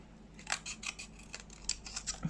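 Small scissors snipping out nail water decals, several short crisp cuts spaced irregularly, close up and quiet with no talking.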